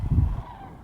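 Sandhill cranes call at a migration gathering, with one short, loud honking burst fading quickly into quiet.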